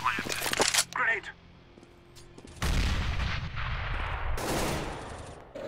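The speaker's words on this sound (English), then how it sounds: "That nade landed right on him." A grenade explodes in Counter-Strike: Global Offensive, a loud, sudden broadband blast that rumbles and hisses on for a few seconds after earlier gunfire-like bursts, with players' voices around it.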